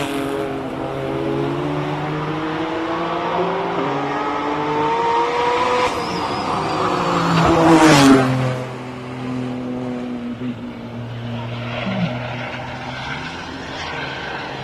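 Hill climb race car at the SIMOLA Hillclimb King of the Hill shootout, on wet tyres, engine howling loud as it accelerates past, rising to a sharp peak then falling away with gear changes, a faint voice briefly underneath.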